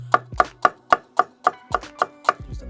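A chef knife finely dicing onions on a cutting board, about ten crisp, evenly spaced chops in a steady rhythm, close and clear with no talking.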